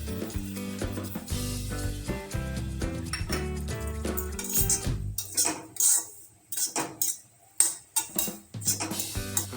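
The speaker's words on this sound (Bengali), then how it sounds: "ভাজার সময় আপনারা এরকম করে কষিয়ে নেবেন, এরকম করে ভাজলেই হবে।" Bottle gourd peel is stir-fried in a pan as a metal spatula clanks and scrapes in sharp, irregular strokes. Music plays loudly over the first half, then the close utensil knocks stand out alone.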